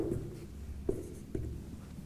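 A pen or marker writes a short word, with soft scratching strokes and a couple of taps against steady background hum, no voices.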